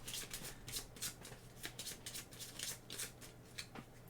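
A deck of playing cards for the board game Arkeis is shuffled in a steady series of soft, papery riffles, close but quiet over a low background hum, with no talking.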